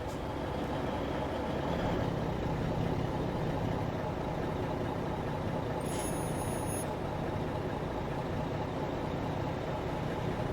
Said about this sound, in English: I'll pull over here, I'll shut the truck down